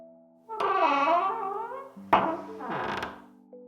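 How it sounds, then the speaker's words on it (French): A large carved wooden palace door creaks open in two long drawn-out groans, the second starting with a sharp knock, loud and close over silence. "Intrigué, Léo poussa la grande porte en bois sculptée du palais et entra."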